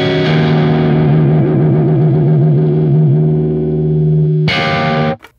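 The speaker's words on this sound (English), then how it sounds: "Now I'm gonna give it a good thumb plucking." Electric guitar low E string plucked hard with the thumb through a distorted effects chain in a blues style, a sustained growling note wavering with whammy-bar vibrato, then a brighter attack before cutting off abruptly; no talking.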